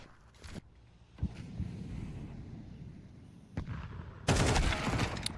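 Gunfire in a Counter-Strike match at a pro tournament: bursts of shots crack through steady game noise, with a sharp opening volley, a dense stretch of fire, then a louder final burst near the end.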